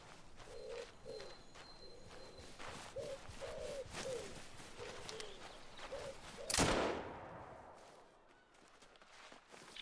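A single sharp hunting rifle shot fired from the hip in Call of the Wild cracks out loudly after quiet ambient outdoor sounds with faint hooting birdcalls, then fades into near silence.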